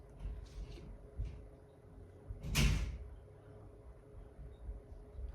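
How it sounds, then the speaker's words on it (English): A small child slams a gate shut indoors with one sharp, loud bang, amid quieter knocks and clatter before and after. "He feels like such a big boy slamming his own gate."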